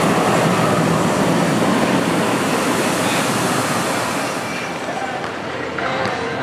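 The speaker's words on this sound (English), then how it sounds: "One of the best moments on Diamondback is the ending splashdown." The Diamondback roller coaster at Kings Island ends its run with a splashdown: a loud, sustained roaring rush of spraying water close by, easing slightly toward the end.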